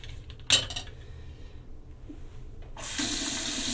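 Hotel bathroom sink at the DoubleTree in Oak Brook, Illinois: a faint thump and clatter near the start, then a faucet opens and water gushes loudly and steadily into the basin.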